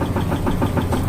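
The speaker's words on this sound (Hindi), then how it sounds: "ये स्टीयरिंग गियर मोटर" Steering gear motor aboard a bulk carrier cargo ship, a steady loud mechanical drone with a faint regular pulsing throb, running continuously up close.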